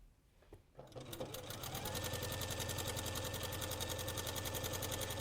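After a brief quiet start, a sewing machine revs up and runs continuously while stitching quilt layers with wadding, a fast, even rhythmic whir and needle tapping, close and steady.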